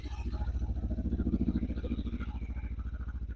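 A Lifan KPT 400 motorcycle, new and freshly assembled, idles with a steady, quick-pulsing thump that stays loud and even throughout, with no revving.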